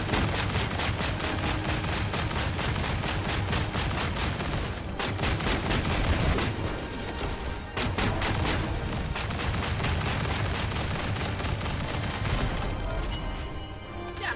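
Dense, continuous automatic gunfire from The First Descendant during a boss fight, rapid loud bursts filling the whole stretch with only brief dips.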